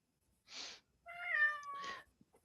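A cat meows once, long and clear, close to the microphone in a quiet room, with short breathy noises just before and after it.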